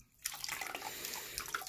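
Herbs squeezed and crushed by hand in a basin of cold water for a sweet herbal bath, with close, continuous sloshing, splashing and dripping after a brief quiet start.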